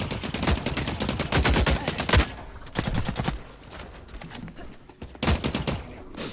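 Rapid automatic gunfire in The Cycle Frontier rattles in loud, dense bursts, with short pauses between volleys and a final burst near the end.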